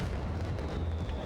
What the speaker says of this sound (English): there's fireworks